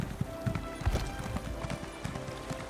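A horse's hooves clip-clop in a steady rhythm while it is ridden in a video game, close and moderately loud, with faint background game sounds.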